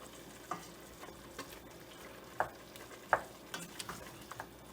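Jamaican curry chicken is stirred in a pot, a steady soft sizzle running beneath scattered spoon knocks and taps against the pot, with no voices.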